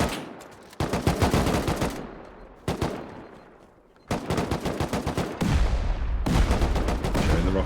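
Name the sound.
rocket explosions in the video game Rust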